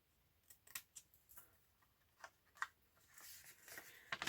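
Scissors snip into a folded paper envelope, a series of quiet, crisp cuts with small rustles between them, faint and close.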